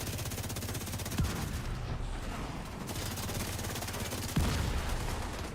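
Rapid automatic gunfire in a shooter video game, a steady dense rattle of shots throughout with a couple of sharper accented bursts, loud and continuous with no talking.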